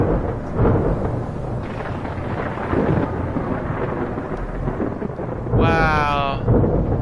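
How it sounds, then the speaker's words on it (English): Thunderstorm in the video game Escape from Pertam: dense pouring rain with several booming thunder rumbles, and a short warbling electronic tone partway through. "it's really turned out to be quite the storm out here"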